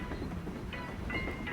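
A moving train in the video game Paper Mario: The Thousand-Year Door gives a low, steady rumble with faint rhythmic clatter, played quietly and alone.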